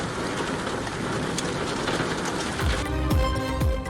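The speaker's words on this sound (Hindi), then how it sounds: "सऊदी अरब में मूसलाधार बारिश ने जल थल एक कर दिया।" Torrential rain pours down in Mecca, Saudi Arabia: a dense, unbroken hiss of heavy downpour, steady and close, with a few dull low thumps near the end.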